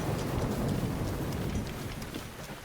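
Heavy thunderstorm rain pours steadily in Zelda: Breath of the Wild, a dense continuous hiss with a low rumbling undertone of thunder, fairly loud and unbroken throughout, with no voices.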